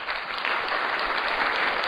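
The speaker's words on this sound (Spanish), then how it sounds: "Esto mereció un aplauso." Applause from an audience at a talk about street art, a steady, dense burst of clapping lasting about two seconds at moderate loudness, heard on its own without voices.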